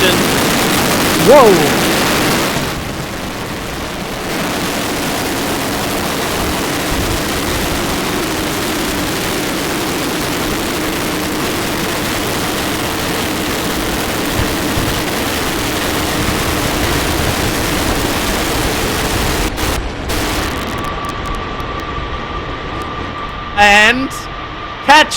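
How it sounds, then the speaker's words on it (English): A SpaceX Super Heavy booster's rocket engines fire for the landing burn ahead of a tower catch, a loud, sustained roaring crackle lasting over twenty seconds before cutting off, with a voice briefly exclaiming near the start and cheering at the end. "There are the engines. Landing burn ignition."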